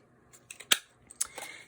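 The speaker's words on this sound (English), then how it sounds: "So I just take my 1/2 inch circle and I punch out 2 1/2 inch circles." A half-inch circle paper punch clicks through paper close up, a couple of crisp snapping punches with lighter clicks around them in a quiet room.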